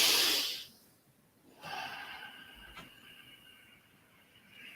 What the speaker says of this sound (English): breathe slowly in and out through your nose